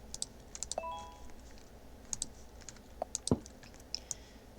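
Rapid mouse clicking during a Roblox game: sharp, irregular bursts of close clicks scattered throughout, interspersed with a few soft keyboard-like taps over low background hum.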